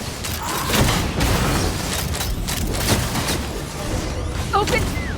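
Heavy bursts of gunfire and booming blasts fill a video game ambush at a hideout, a dense, continuous barrage with sharp cracks throughout and brief whistling tones near the end.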